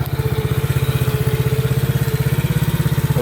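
A 2015 TaoTao 125D small motorcycle engine idles close up, a steady, even chugging pulse with a fast regular beat, loud and alone without any voices.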